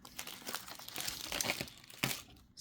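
Wrapped planner haul packaging being unwrapped, heard as close, busy paper crinkling and rustling with a few sharper tearing bursts, no talk.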